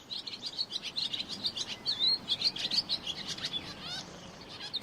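Several small birds chirp and sing outdoors, rapid high twittering phrases overlapping in quick bursts, moderately distant and soft, with no voices.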